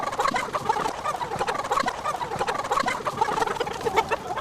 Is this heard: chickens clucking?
yes